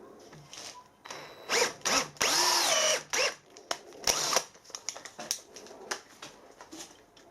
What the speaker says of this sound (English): I'll drill that one out 10mm and put a 10mm insert into that one.